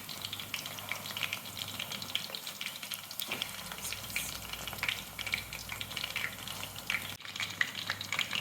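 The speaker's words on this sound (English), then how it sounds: "I'm moving them aside to put some more meatballs in the oil." Meatballs (koftay) frying in oil, a steady close sizzle with scattered pops and crackles throughout, no talking.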